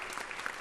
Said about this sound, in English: thank you for that wonderful round of applause